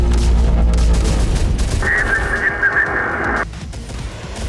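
In a combat video game, missile explosions and gunfire rumble in a heavy, rolling barrage, with a steady high tone sounding partway through before the blasts ease off.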